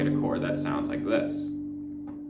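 Guitar chord strummed with a capo on the third fret, a bright ringing chord that sustains and slowly fades, close and moderately quiet.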